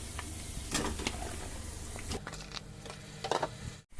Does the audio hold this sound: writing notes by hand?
no